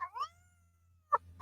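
A pet cat gives a drawn-out, rising-then-falling meow close by, followed after a pause by a short, sharp second mew in a quiet room.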